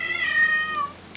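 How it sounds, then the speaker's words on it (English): A deaf cat named Marshmallow meows outside a closed bedroom door, a long wavering yodel-like cry that rises and falls for about a second, clear and fairly close, with a faint click at the end and no talking. "my deaf cat yodels when she meows, and she's trying to get in my room"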